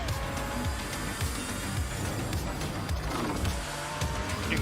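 A race car engine revs hard with repeated tire squeals and skids in a Disney-themed kart racing game featuring Captain Jack Sparrow, loud and continuous throughout.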